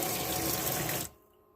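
A bathroom tap in a camper van runs hot water from a Truma boiler in a loud, steady rush, then is shut off abruptly, leaving a faint hum.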